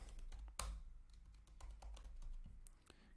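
Quiet, close keystrokes on a computer keyboard as a headline is typed, irregular taps with one sharper key hit early on, over faint room noise.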